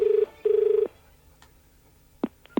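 A telephone rings in two bursts, each a steady electronic trill, then a pause followed by a couple of sharp clicks or knocks, heard alone with no voices.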